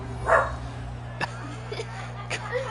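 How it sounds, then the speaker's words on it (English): A pet dog named Ginger yips and barks in the background of a home during a football broadcast, a few short faint calls spread over a low steady hum, with no talk over them. "And Ginger has to bark in the background."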